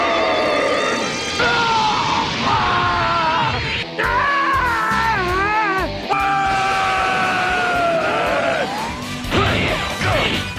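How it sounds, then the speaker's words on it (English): Dragon Ball Z Budokai fight with near-constant shrill, strained screaming and yelling from the fighters, broken by smashing impacts and sweeping energy effects, loud and chaotic throughout. "why is there so much screaming?"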